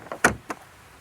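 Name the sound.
Genesis GV60 rear doors opening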